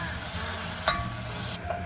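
Anchovies, capers and onion sauté in a pan with a constant close sizzle, and a couple of light clinks of a utensil stirring cut through the frying.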